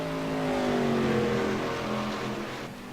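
A sim racing car engine, number 07, revs and then drops in pitch as the driver clutches into a corner at Rockingham, a loud close engine whine easing off toward the end, with no talk.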